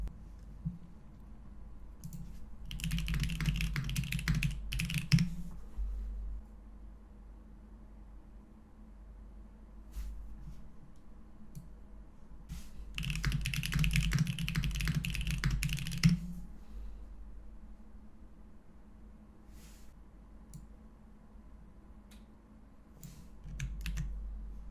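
Bursts of typing on a computer keyboard, clattering in two main runs of a few seconds each with scattered single key clicks between, over a steady low hum in a quiet room.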